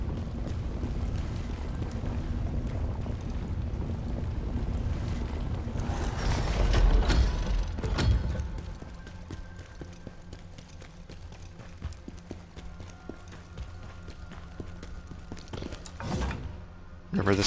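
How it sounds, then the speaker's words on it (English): In The First Berserker: Khazan, a long elevator ride grinds along as a steady mechanical rumble with gear-like rattling, swelling louder for a stretch before settling back into a lower hum. "Longest elevator ride ever."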